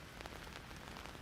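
Steady rain falling at night over an outdoor football field, a dense close patter of drops hissing on surfaces throughout, no talk.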